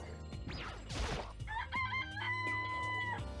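Game chickens in Danganronpa clucking and crowing in a series of sharp, repeated bird calls layered over background music, preceded by a brief swooshing effect.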